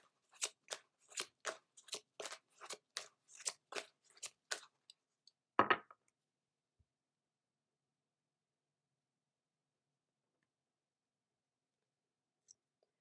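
A card pulled from a Fairy Oracle deck: a quick run of about a dozen soft, crisp card clicks and riffles, then one louder snap before near silence, close and quiet.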